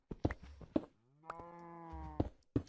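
A video game cow lets out a close, drawn-out moo between soft clicking footstep sounds, clear against a quiet background.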